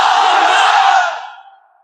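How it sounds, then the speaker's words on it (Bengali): At a Bengali waz mahfil religious gathering, a massed crowd chants Allahu Akbar together, a loud sustained roar of voices lasting about a second before tapering off. "3টা তাকবীর, আপনারা তাকবীর দেন।"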